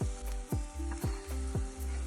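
Gongura chutney mixture is stirred in a hot pan, sizzling steadily with a rhythmic scrape or knock of the spoon roughly twice a second, close up with no talking.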